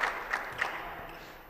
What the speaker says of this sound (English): Crowd is on their feet here in Montreal.